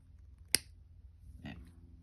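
Wire cutters snip the end off a jewellery wire wrap with one sharp, close click, followed a second later by a softer handling sound.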